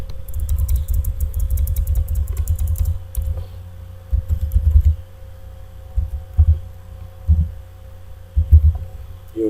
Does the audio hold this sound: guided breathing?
no